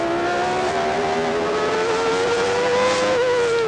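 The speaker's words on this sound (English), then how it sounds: "see the rate at which the car still continues to accelerate at nearly 200 miles an hour, and then rapid deceleration" A 1989 Formula 1 car at the Japanese Grand Prix accelerating at nearly 200 mph, its high-pitched engine screaming steadily and rising slightly in pitch, loud and continuous throughout without any talk.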